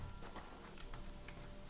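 Horse hooves clip-clopping in Kingdom Come: Deliverance II, several distinct hoof strikes in an uneven walking rhythm, fairly close over faint background ambience.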